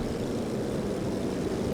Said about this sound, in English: The planes are still flying around.